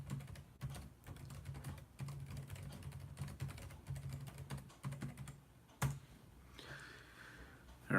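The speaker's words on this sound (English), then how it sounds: "Here, I'll type something in so you can see it." Someone types on a computer keyboard, a quiet close stream of quick irregular key clicks with brief pauses and a sharper tap near the end.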